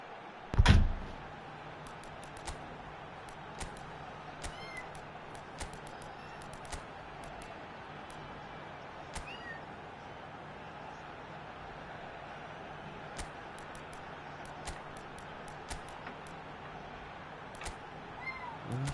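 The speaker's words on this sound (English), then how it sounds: "it's my cat" A house cat lets out a single loud meow near the start, then quiet room tone with scattered faint clicks follows for the rest of the stretch.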